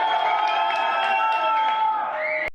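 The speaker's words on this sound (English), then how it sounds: "Trump has fans who cheer for him outside court proceedings" Crowd of Trump supporters outside a court building, a sustained wash of cheering and shouting voices that holds steady and cuts off abruptly.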